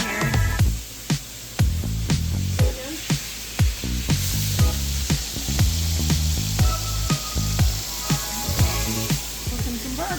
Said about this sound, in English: Cooking some burgers.